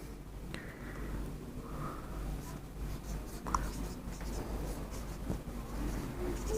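Marker or chalk scratching across a board during a preposition lesson, a run of short scraping strokes and taps, close and fairly quiet over a low background hum, with no talking.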